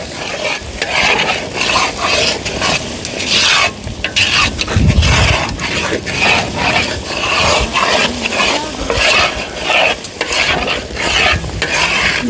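Three kilos of sticky glutinous rice for biko being stirred in a pan, making a loud, continuous thick scraping and squelching under a constant sizzle, close up and without talk.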